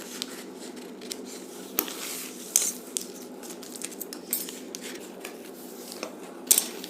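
Scissors cut through cloth for an umbrella-style gown, producing light, scattered snips and crisp metallic clicks at an uneven pace, close up with no talking.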